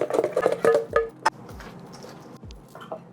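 Banana bread batter stirred by hand in a bowl, with a run of close, quick scraping and tapping strokes that clack against the bowl, then quieter and sparser toward the end.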